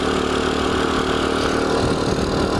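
A Dax 125cc motorcycle with a stock SkyTeam 125 engine and Mikuni 22 mm carburettor idles steadily close by, a loud continuous rumbling putter with no breaks.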